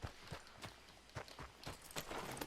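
Horse hooves clip-clop at a steady walking rhythm in the Red Dead Redemption 2 video game, close and clear, with a few faint game sounds around them.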